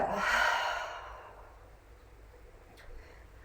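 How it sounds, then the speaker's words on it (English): A long, relaxed cleansing breath exhaled during a morning yoga flow, close and breathy, fading out over about a second into near silence with a faint tick later. "Exhale."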